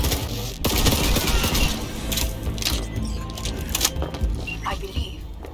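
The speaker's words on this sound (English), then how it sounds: "They're opening fire!" Bursts of rapid gunfire from a firefight in the video game Cyberpunk 2077 crackle and rattle continuously at close range, with scattered booms and mechanical clatter throughout.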